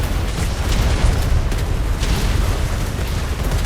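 Ship cannons fire during a naval roleplay battle in a video game, producing a dense, continuous rumbling roar of booms that blend together at steady loudness without distinct pauses.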